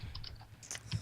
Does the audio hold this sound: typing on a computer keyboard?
yes